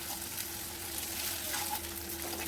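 Chicken pieces fry steadily in hot oil for a Schezwan chicken dish, a continuous close sizzle with faint clinks of stirring and no voices.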